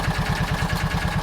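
The engine of a John Deere Gator 4x2 idles steadily up close after a tune-up, with a fast, even low throb and no talking.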